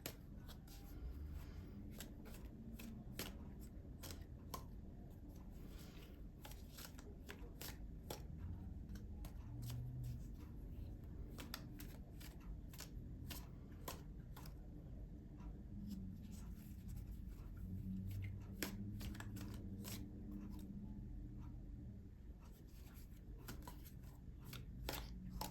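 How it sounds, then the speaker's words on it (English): Tarot cards shuffled and drawn for a pick-a-card career reading, a steady soft rustle with repeated sharp card snaps and slides across the whole stretch, close and fairly quiet, with no talking. "let's pull one more to go with your advice card"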